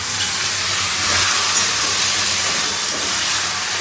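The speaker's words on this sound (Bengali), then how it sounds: "এবার কুমড়োটাকে ছেড়ে দিই।" Pumpkin pieces sizzle steadily in a small amount of hot oil tempered with cumin seeds, dried red chilli and bay leaf, a loud, continuous frying hiss filling the whole stretch.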